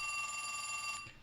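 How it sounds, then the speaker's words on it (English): Old-fashioned telephone bell ringing, a faint, continuous metallic trill held for about a second before cutting off, with no talking. "I have an old-fashioned phone with an old-fashioned bell"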